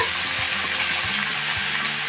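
Green beans dropped into hot oil in a frying pan for a Bengali stir-fry, a close steady hiss and crackle of sizzling over a few low knocks, with no one speaking.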